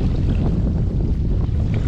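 A boat pulls away from the shore, a steady low motor rumble mixed with gusty wind noise and water, close and continuous without speech.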